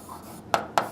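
Chalk or marker writing on a board in a physics classroom: soft scraping, then two crisp taps about a quarter second apart, close and distinct.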